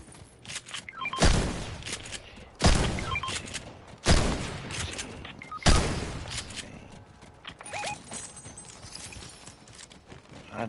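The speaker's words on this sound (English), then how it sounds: "Should have a faster shooting shotgun" Heavy shotgun blasts from the video game Fortnite, four loud booming shots spaced about one and a half seconds apart, followed by softer clattering gameplay noise.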